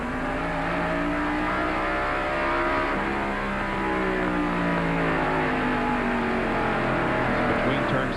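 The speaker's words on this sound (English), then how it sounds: "As he comes off the corner, he nails the accelerator, but he's not on it very long before he backs off and pumps the brakes again." A stock car racing at Martinsville Speedway in the 1993 Goody's 500, engine roaring steadily with rising and falling pitch as it surges off a corner and backs off again, close and loud throughout.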